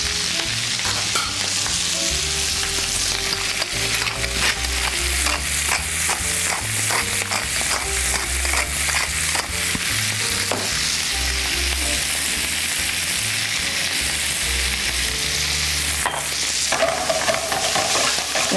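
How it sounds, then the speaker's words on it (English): Brussels sprouts and garlic sauté in a hot pan, giving a steady, loud sizzle throughout with frequent sharp crackles and scraping stirs, no voices over it. "Season it with salt and pepper, and just saute these until they're nice and tender"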